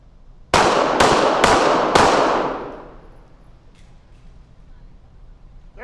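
Four sharp pistol gunshots at a police shooting range qualification, fired in a quick, fairly even sequence, loud and close, each crack followed by a decaying echo that fades into quiet range ambience.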